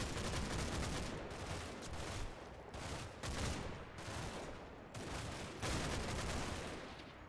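German machine guns firing in a Combat Mission Normandy battle, rapid bursts of automatic fire in repeated volleys with short pauses, loud and continuous across the scene.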